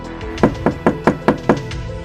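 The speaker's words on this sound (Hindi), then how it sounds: "दरवाज़ा ठोकने लगे" Six firm knocks rap on a hotel room door in a steady, even rhythm, loud and close, with a brief pause before and after.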